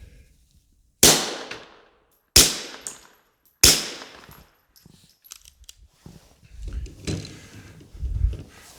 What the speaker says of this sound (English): And so back to a SIG like the first one I shot there, but in 9mm.